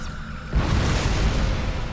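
A deep booming explosion in Star Trek Online erupts suddenly and keeps rumbling loudly for over a second, a broad roaring blast destroying research, with no voices.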